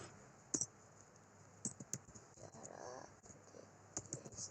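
A computer keyboard clicks in a quiet room as a terminal command is typed, with sparse, irregular key presses close by and short pauses between them.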